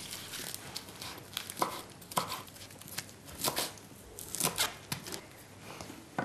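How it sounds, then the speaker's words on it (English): Knife chopping a small handful of fresh spinach on a board, a run of crisp, irregular cuts close by, fairly faint, with no talking. "So we're going to chop a little bit of, just a little handful of spinach."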